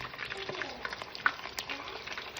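Duck meat sears in a hot pan, giving a steady, dense sizzle and crackle with small pops, close but moderately quiet and continuous throughout.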